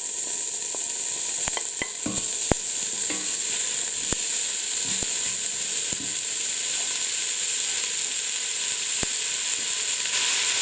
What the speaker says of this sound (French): Je vais mettre un peu d'huile d'olive dans la cocotte. 2 petites cuillères. Et je vais faire revenir les oignons.